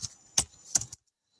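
Typing on a computer keyboard to launch Visual Studio 2015, three quick clicky keystrokes close to the microphone, then silence.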